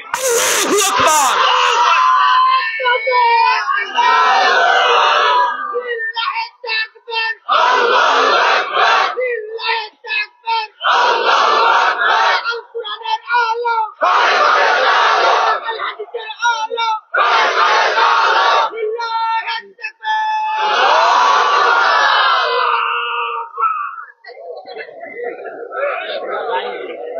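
A large crowd chants the religious slogan Naraye Takbir, Allahu Akbar at a sermon gathering, with loud repeated shouted bursts separated by short pauses and a leading voice calling out between them.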